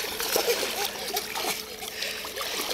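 A child swimming splashes water in quick, irregular bursts close by, with people talking over the splashing.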